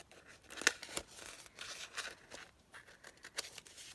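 Scissors snip out an inkwell and quill shape from paper in a few crisp, separate cuts and rustles, close and fairly quiet, with no talking.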